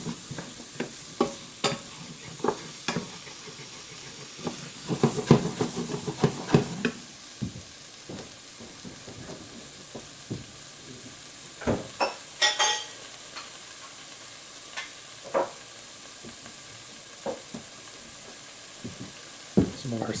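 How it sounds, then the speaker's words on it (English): Paste for a fisherman's stew sizzles over medium-low heat with celery and mushrooms, softly crackling under intermittent spoon stirs and scraping knocks against the pan, close and moderately quiet, with no talk. "we're just going to cook that paste off a little bit with these ingredients"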